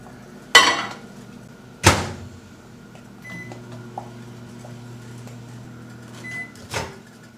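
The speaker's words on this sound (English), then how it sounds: "Put that in the microwave" Microwave oven melting chocolate chips: two loud close thumps of the door, then a steady low hum while it runs and a beep near the end.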